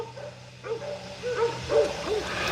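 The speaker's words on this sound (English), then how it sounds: "But y'all hear my dogs barking?" Several dogs bark in a loose series of short, muffled woofs at a moderate distance, growing a little louder toward the end over a steady background hiss.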